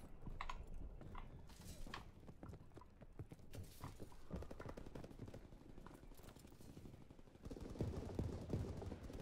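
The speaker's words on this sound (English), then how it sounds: "Sure, I can hear footsteps." Rapid, steady footsteps from a Call of Duty WWII multiplayer match, an unfamiliar map, pattering close and continuous for the whole stretch with scattered sharp cracks mixed in, growing louder and heavier near the end; no talking.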